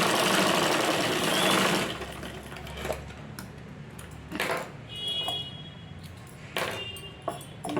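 A sewing machine stitching the lining of a blouse along its edges, running in a loud steady burst at first, then in shorter intermittent runs with small clicks and pings between them.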